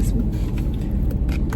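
Interior rumble of a car driving to baseball practice, a loud, steady low road and engine drone with faint rattles, continuous through the short stretch without speech.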